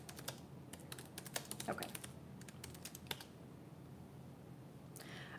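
Rapid bursts of keystrokes clatter on a computer keyboard, coming in irregular clusters during the first three seconds, then a pause and a short final flurry, with a brief spoken word.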